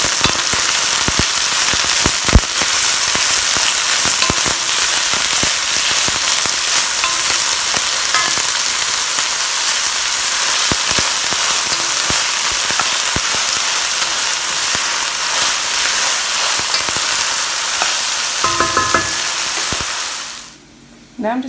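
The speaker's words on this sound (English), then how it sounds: "go ahead and add your peppers, onions, peppers and onions to it" Peppers and onions fry in a Le Creuset 7.5 signature soup pot at the start of a spaghetti sauce, a loud, dense, close sizzle with scattered stirring clicks that runs steadily, then cuts out abruptly near the end.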